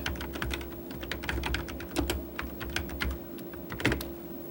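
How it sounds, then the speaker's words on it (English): Quick, steady keystrokes on a computer keyboard while typing an email subject line, close and fairly quiet, with a faint hum underneath and no talking. "I click inside the Subject box and type Quite an Interesting Find."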